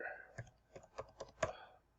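A website address is typed on a computer keyboard in a run of about six distinct clacking keystrokes at an uneven, moderate pace, close and fairly soft.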